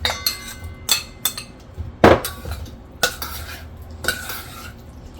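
A spoon stirs a lemon juice marinade for paneer in a bowl, giving a run of sharp, close clinks and scrapes in an uneven rhythm with short pauses between strokes.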